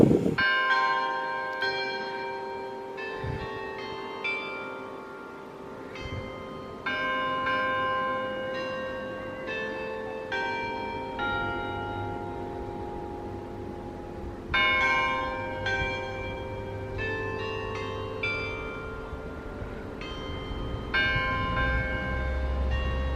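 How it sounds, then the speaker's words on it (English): Church bells in Callosa, Spain chime for one o'clock, a long, lively sequence of ringing strikes in irregular bursts with lingering resonant hum between them, heard outdoors with no talking. "What a nice little chime for 1 o'clock."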